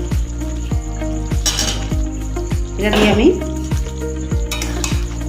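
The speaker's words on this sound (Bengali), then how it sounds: "এবার দিয়ে দেব আলু ভাজাটা" Fried potatoes stirred into a simmering potato malai curry gravy in a pan, with a steady sizzle and regular scraping clinks of the spoon against metal, while someone talks briefly.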